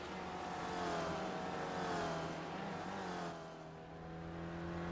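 SRF race car engine lapping the Mount Panorama circuit at Bathurst in the iRacing video game, a steady droning whine that rises and falls with revs, easing off briefly before climbing again.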